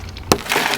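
Car window glass shattering from a single punch of a handheld window breaker tool, one sharp close crack followed by a brief spray of breaking glass.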